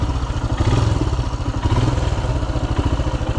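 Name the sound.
Royal Enfield Himalayan motorcycle riding on a singletrack trail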